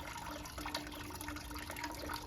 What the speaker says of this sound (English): this is a water feature I made quite a few years ago